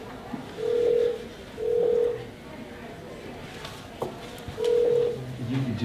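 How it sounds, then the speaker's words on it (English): A mobile phone call ringing through toward voicemail: three evenly spaced ringback tones, each about half a second long, with a voice speaking faintly in the gaps and a short fourth tone starting at the end. "Calling Rick's mobile phone."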